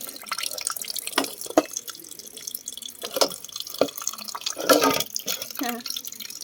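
Water runs and drips from a kitchen tap while food is washed, with splashes, irregular drips and clatter in a sink, and a voice speaks softly at times.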